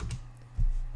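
Brief, fairly faint typing on a laptop keyboard over a low steady hum, with a slightly louder burst of keys toward the end.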